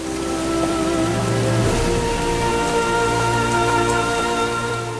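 Heavy, steady rain during the 2015 Chennai floods falls continuously for the whole stretch, a dense wash of drops on surfaces with no voices and some faint low hum underneath.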